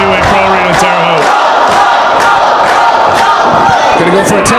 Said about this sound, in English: But listen to this crowd here tonight. It is unbelievably loud here at the New Wave Pro Arena in Terre Haute.